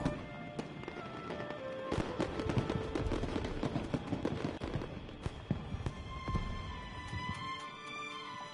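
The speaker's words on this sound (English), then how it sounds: "A fireworks show?" A fireworks show in a video game: dense, rapid volleys of sharp pops, bangs and crackles burst one after another, loud and continuous, then thin out toward the end.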